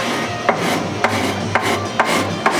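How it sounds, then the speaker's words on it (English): A scraper rasps glue off a wooden soundboard in five short, rhythmic strokes about half a second apart, close and fairly loud, with a steady rubbing texture between strokes. "So I'll just scrape on that 45-degree angle"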